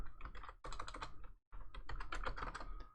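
Rapid clattering keystrokes on a computer keyboard, close and fairly steady, with one brief pause midway before the typing resumes.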